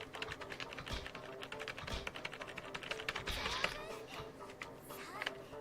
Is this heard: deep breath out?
no